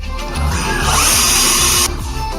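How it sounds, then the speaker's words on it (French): A cordless power screwdriver whirs in short bursts, its motor revving loud and close with a steady high whine and a few rhythmic pulses, with no voices over it. "Et c'est une visseuse"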